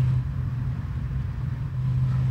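A car engine rumbles while driving, a low steady hum with a deep tonal drone that swells slightly at the start and end, close and continuous with no talking.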